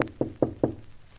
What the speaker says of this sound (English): Knock gently, my dear.